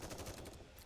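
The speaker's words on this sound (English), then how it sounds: "The sound of gunshots rings out." Rapid automatic gunfire from the video game NIKKE rattles in a quick, dense burst of shots, faint and lasting under a second.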